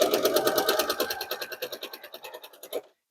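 A sewing machine stitching quilt block seams with half-square triangles, a steady rapid run of needle strokes that carries on for nearly three seconds, then stops abruptly after a final louder burst.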